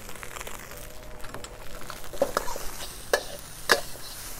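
Thai fried rice with crab is scooped and flipped in a pan while warming through, giving soft scraping and crinkling stirs with a few sharper clicks of the utensil, moderately quiet and without talk.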